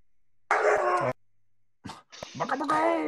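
A dog gives short, loud, tonal barks and yelps close up, in two separate bursts with a gap between them.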